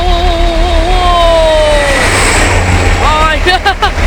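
A Tayo-liveried bus speeds past close by, its engine whine sliding down in pitch as it goes, loud and then breaking into a rough, rattling roar.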